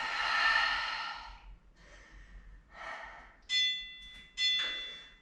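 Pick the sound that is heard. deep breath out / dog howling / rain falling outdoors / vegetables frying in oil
deep breath out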